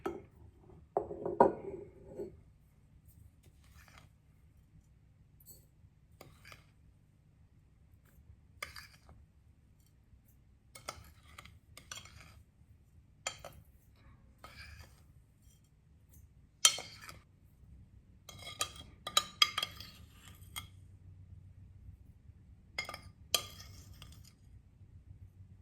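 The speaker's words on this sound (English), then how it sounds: "All you need to do now is transfer this into your glass jar and put the lid on tightly" Homemade jerk seasoning scooped into a glass jar, the lid then screwed on tightly: scattered soft clinks and taps of spoon and glass in a quiet kitchen, irregular and close.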